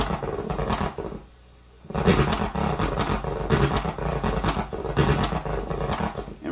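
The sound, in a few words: DJ turntable scratch with power-down deceleration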